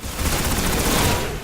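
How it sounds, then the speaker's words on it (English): Pulse rifle bursts from Destiny fire in rapid, loud, tightly packed volleys, a continuous crackle of gunfire with no talk. "the poor bastard seems to be using a pulse rifle"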